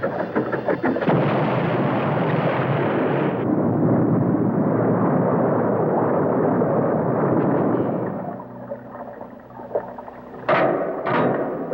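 Cartoon submarine laser weapon fires in a long, loud, roaring blast that runs for about eight seconds, then fades into a lower rumble, followed by two sharp explosive bursts near the end.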